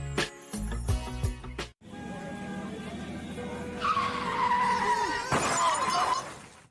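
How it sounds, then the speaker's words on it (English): A car gets bashed in a crash. Tyres squeal and skid before an impact with breaking and shattering, then a sharp second crunch. The sound is loud and close, with sustained screeching between the hits. "If your car just got bashed like that, would you be this person?"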